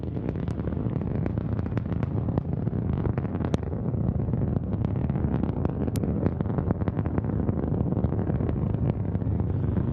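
A continuous, loud, broadband roar of rocket engines at full thrust during the NG-16 resupply mission launch to the International Space Station, steady for the whole stretch with crackling bursts and no voices.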